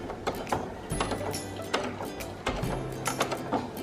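A sewing machine stitches fabric forward and then backstitches, a steady mechanical whirr of rapid needle strokes with low humming pauses where the direction changes.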